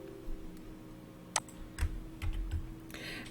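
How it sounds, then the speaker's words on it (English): A few light keyboard key clicks and taps sound in a quiet room as a Control J shortcut is pressed in a photo editor, with soft scattered presses over a faint steady hum. "I'm just going to hit Control J"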